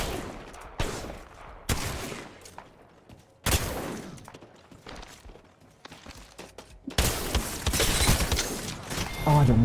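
Gunfire in Apex Legends: several separate bursts of shots with quiet gaps between them, and a dense, louder volley near the end. The firing sounds close and carries no talk.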